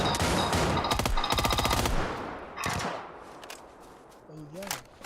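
Gunfire in the PUBG battle royale game: rapid automatic bursts and single shots crack loudly in the first half, then fade into scattered distant shots, with a voice heard briefly near the end.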